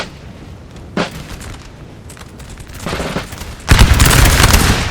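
Musket volleys from Old Guard grenadiers in a Napoleon Total War battle: a lone sharp crack, then a ragged rising fusillade that swells into a loud, dense, continuous roll of gunfire.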